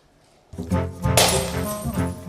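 A Buckfast tonic wine bottle smashed in a breakage test, one sharp crash of shattering glass after a brief silence, followed by tinkling, ringing fragments settling close by.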